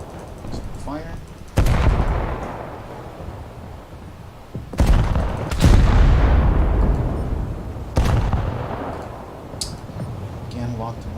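Battleship main guns in War Thunder fire in three heavy booming salvos spaced a few seconds apart, each with a long rumbling tail, while a player talks between shots.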